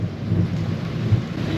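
Thunder from an Australian storm rumbles low and steady, a continuous near rolling growl with a faint rain hiss over it and no voices.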